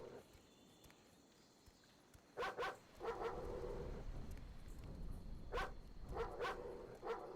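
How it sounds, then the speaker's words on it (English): Dogs in the video game Experience 112 give several sharp barks in two clusters over a low, rumbling ambient drone. They sound moderately close, with no talking. "Maybe if I tempt the dogs with bait, I might distract them"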